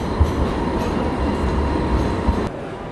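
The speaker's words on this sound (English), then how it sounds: "The world's slowest trams." A tram rolls past at close range with a low, heavy rumble and a couple of wheel thumps, fading slightly toward the end.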